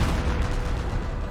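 Artillery barrage in Company of Heroes, a World War II strategy game: dense, continuous low rumble of explosions throughout, loud and sustained without clear separation between shells.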